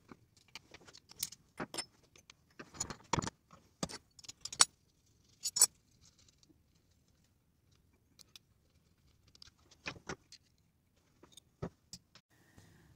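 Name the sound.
disassembling a Shimano 7-speed bicycle hub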